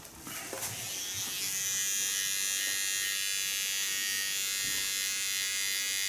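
An electric shaver buzzes steadily and close up as it shaves the side of a head, starting with a few soft bumps before settling into a continuous whine.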